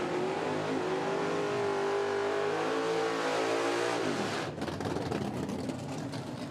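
A Pro Mod drag race car, a 1961 Ford Falcon, screams under full throttle, the loud engine note rising steadily, then cutting off abruptly into a rough, lower rumble at a track.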